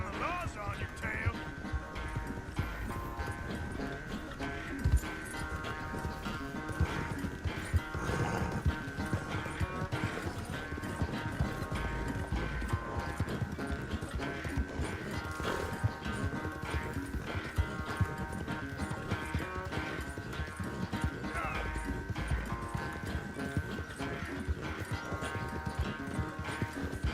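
Horse hooves clip-clop at a steady gallop under a rider in Red Dead Redemption 2, a continuous loud rhythmic pounding that runs the whole way, with a voice talking over it.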